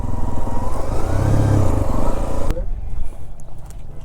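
A motorbike engine revs loudly close by on a mountain road near Valparai, a rising throaty drone that cuts off abruptly midway into quieter road noise, with someone talking over it.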